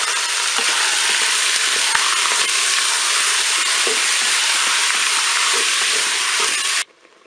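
Beef pieces sizzle loudly and steadily in a preheated Cookeo multicooker, a continuous dense frying hiss that cuts off abruptly near the end.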